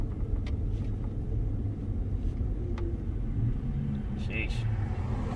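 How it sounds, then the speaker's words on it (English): A pickup truck cruising down the road, its turbo whining constantly over a steady, loud low engine and road rumble, with one brief spoken exclamation. "I'm still trying to figure out this thing has turbo, because it constantly whines like crazy"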